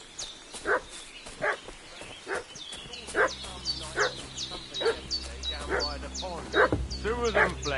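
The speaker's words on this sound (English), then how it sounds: "What's that dog making such a fuss about?" A dog in the medieval Bohemian world of Kingdom Come Deliverance 2 barks repeatedly in sharp, evenly spaced yaps with whiny fussing between them, moderately close, while a low ambient drone and faint game sounds run underneath.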